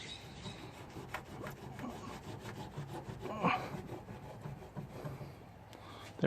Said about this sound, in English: Give it a good rub.